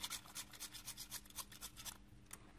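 Sandpaper rubbed in quick back-and-forth strokes over a plastic part of a Fujimi 1/24 Ferrari F430 Challenge model kit, giving a close, soft, rhythmic rasping with no voices.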